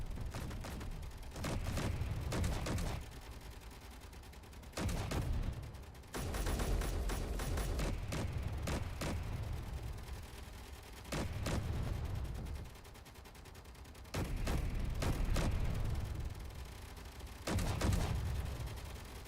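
Gunfire during an attack on a base in the space-building game Space Engineers: repeated bursts of shots in several clusters across the stretch, loud and close, with no talk over them.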